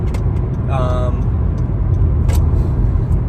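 Low, steady road rumble fills a car interior while driving home at night, with a brief tonal whine and small clicks, and a person talking over it.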